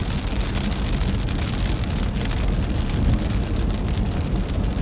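Driving rain from a severe Midwest storm pelts a storm chaser's car, a loud continuous hiss of drops on the body and glass over a deep rumble of the vehicle on the road.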